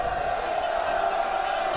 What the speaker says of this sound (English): that crowd in that first half was kind of out of it for a little bit. Now they're fired up.